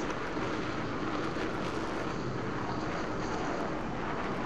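A jet plane in the video game Battlefield 3 roars steadily with a broad, continuous engine wash that stays loud and unchanging throughout.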